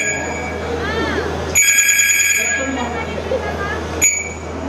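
A cell phone rings with a bright electronic tone in two bursts, the first lasting about a second and the second brief, over a busy indoor background with a voice nearby.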